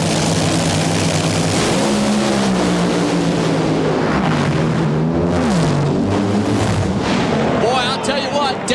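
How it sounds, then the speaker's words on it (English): Nitro-fueled NHRA funny cars roar down the drag strip at the 2002 Fall Nationals in Dallas, a loud, sustained engine howl shifting in pitch, with an announcer talking over it. "Here we go. Round 2, funny car."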